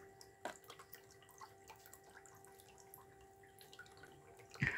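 A mini brushless 12V 30-watt water pump runs submerged in water, giving a faint steady electric hum with soft dripping and trickling, then a louder splash right at the end.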